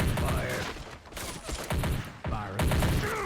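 Gunfire exchange in the Army Men of War mod, dense bursts of rifle and machine-gun shots overlapping with brief lulls, loud and close, with mechanical clatter among the volleys.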